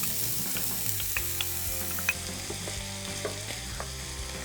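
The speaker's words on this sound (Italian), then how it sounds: "Ci spostiamo ai fornelli dove ho già scaldato dell'olio extravergine e vado ad aggiungere la cipolla." Chopped onion sizzles and crackles steadily in hot extra virgin olive oil on a stovetop, with occasional sharp pops and stirring clicks over the continuous frying hiss.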